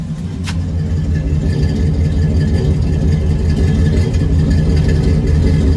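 An old truck engine, with a distributor and a cold start, idles steadily and fairly loudly up close, a dense low rumble running continuously without revving.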